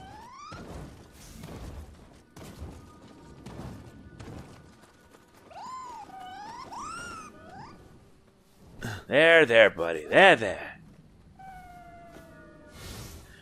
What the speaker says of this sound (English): A scampus is a yokai in the form of a corpulent cat.